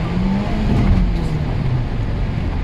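A car coasting in neutral with no braking as its speed falls from about 90, a steady low engine and road drone with wind noise, loud and continuous without speech.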